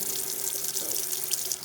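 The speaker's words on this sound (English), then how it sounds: "I'm going to wash my hands again" Water runs steadily from a kitchen sink faucet as hands are washed, a continuous close hiss and splash with no voices.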